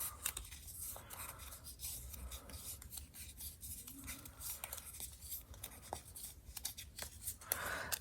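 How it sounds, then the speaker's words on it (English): Paper is creased and rubbed along scored lines, a steady dry rasping and scraping with small crisp ticks, close and continuous with no talking. "And then we're going to fold on all those score lines."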